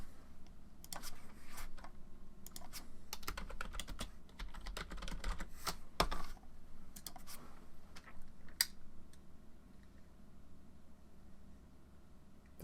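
Quiet, rapid keystrokes on a computer keyboard come in irregular bursts with short pauses, close and faint, tapering off toward the end.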